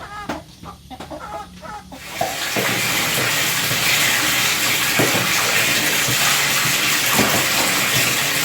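Rice-field snails being washed in water, opening with a few clucks of a chicken nearby, then a loud steady rush of running water with occasional splashes and clatter.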